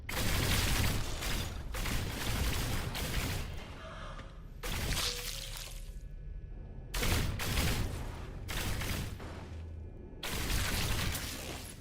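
Gunshots from the video game No Man's Sky as creatures are shot, arriving in loud repeated bursts separated by short pauses.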